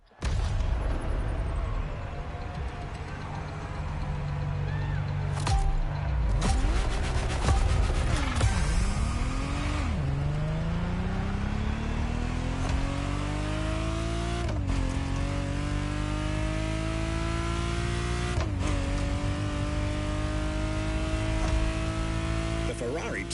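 A Ferrari Testarossa engine in the racing game The Crew Motorfest revs hard through rising gear pulls, with sharp shifts and a brief tire squeal. The engine stays loud and close throughout.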